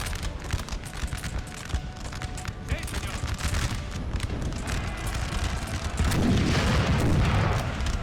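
Artillery firing cluster shot during a Napoleon Total War battle, a dense stretch of overlapping booms and crackling volleys that swells louder and heavier toward the end.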